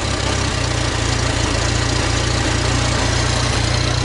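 A restored 1972 International Harvester Cub tractor engine idles low and steady, with a close, even chugging pulse throughout and no voices.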